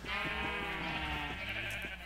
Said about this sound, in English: He's got a pen of rainbow sheep.